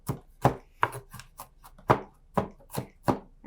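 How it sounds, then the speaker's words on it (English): A kitchen knife chops celery and other vegetables on a cutting board for meal prep, about ten sharp, evenly spaced chops close up with no talk. "I'm using the back end of the knife to do all my chopping where it's the sharpest"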